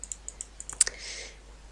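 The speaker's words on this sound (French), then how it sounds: "J'ai remarqué qu'on entendait beaucoup mon clic de souris et mon clavier." Computer keyboard keys tapped in a quick uneven run alongside sharper mouse clicks, close and crisp, fading into faint hiss, no one talking.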